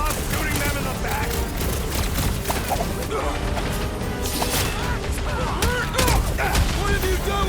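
Rapid bursts of gunfire and crashing impacts in the Marvel's Guardians of the Galaxy video game, dense and loud over busy battle noise, with character voices talking over it.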